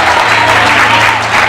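A church congregation applauding together in steady, dense, loud clapping that fills the room without a break.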